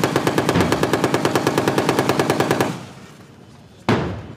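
Autocannon and tank fire at the Han Kuang 39 military exercise on a beach, a rapid steady burst of about twenty loud, close shots that stops abruptly, then one more sharp shot after a pause.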